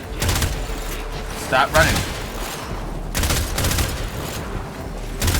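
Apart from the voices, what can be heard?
gunfire in the video game Warframe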